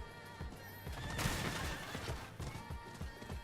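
A horse gallops in Diablo 4, with rhythmic clip-clop hoofbeats close and steady across the whole stretch, a burst of noisy game effects in the middle, and a whinny mixed in.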